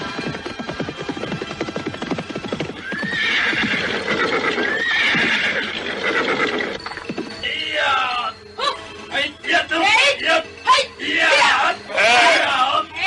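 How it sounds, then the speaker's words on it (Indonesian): Horses of a mounted troop arriving at a rocky cliff-top at dusk, with steady hoofbeats, then repeated loud neighs and whinnies ringing out close by over a busy background. "serombongan pasukan berkuda datang ke tempat mereka"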